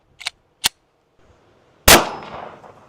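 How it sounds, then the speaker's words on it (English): Two sharp metallic taps come first, then a single loud 9mm gunshot strikes a 100-pound dumbbell, and its bang rings and decays over a second of quiet. "Starting out with a 9 mil."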